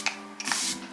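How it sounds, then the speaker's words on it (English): Anastasia Beverly Hills Impeccable setting spray mists onto a face in a short hissing burst, close and soft, between a few small clicks of the pump. "The last thing to do is just to add on this setting spray because it is part of the same like collection, the Impeccable collection."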